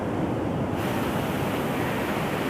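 Ocean surf at Telaga Sari beach in Cilacap roars as a dense, continuous wash of breaking waves and wind, loud and close with no gaps.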